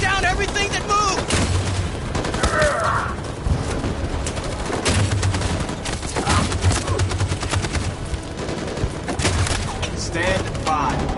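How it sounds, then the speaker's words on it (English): Dense machine gun fire from the video game Detroit: Become Human on PS5, sustained rapid bursts mixed with explosions and battle chaos, loud and continuous throughout, with voices shouting beneath the gunfire. "That machine gun is taking down everything that moves!"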